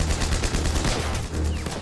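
Sustained battlefield gunfire from soldiers fighting German defenders, dense overlapping rifle and machine-gun shots rattling continuously at close range with no pause.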